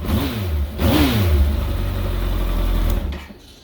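A 2013 Kawasaki ZX14 motorcycle engine blips sharply twice, pitch swooping up and falling back, then holds a steady high rev before dropping abruptly toward idle; loud and close, with no voices.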